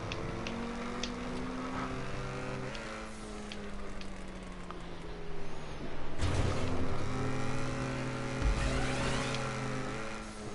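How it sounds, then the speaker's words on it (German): A car engine in the video game GTA 5 revs up and down, drops into reverse and then accelerates hard again, its engine note rising and falling over continuous game noise, with a louder surge partway through. "Rückwärtsgang und nochmals Gas"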